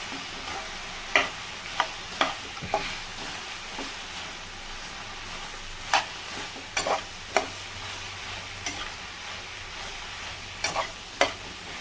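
Green chillies and okra roasting in a pan, with a steady low sizzle and repeated sharp scrapes and clicks of stirring scattered irregularly through, close and moderately loud, no talking.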